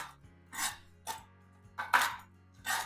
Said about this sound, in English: I'm just going to run my knife through it